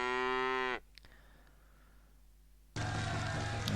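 A cow moos in a video game, two long, loud, tonal calls separated by a quiet pause.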